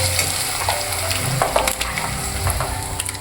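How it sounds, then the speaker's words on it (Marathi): Onion, tomato and ginger-garlic paste fry for street-style butter pav bhaji, a continuous close sizzle with soft scraping and stirring clicks from a spoon against the pan, no voice. "ह्याच्यामध्ये कांदा, टोमॅटो आणि अद्रक लसणाची पेस्ट सगळी आता फ्राय करून घेते"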